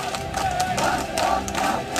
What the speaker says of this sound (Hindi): बांग्लादेश की सड़कों पर हिंदुओं की भीड़ अब कट्टरपंथियों के पसीने छुड़ाने लगी है